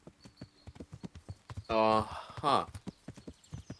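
Steady rhythmic horse hooves clip-clopping in the video game Kingdom Come: Deliverance, evenly paced and fairly close, broken midway by a brief whinny-like burst, with a voice speaking briefly.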